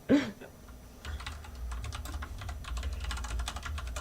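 Heavy, rapid typing on a computer keyboard, a steady stream of sharp close clicks after a brief initial bump, alone without talk.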